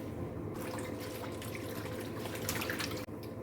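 Steady running water from a tap while dyed clothes are rinsed, a continuous close splashing wash with small drips and a brief dip near the end.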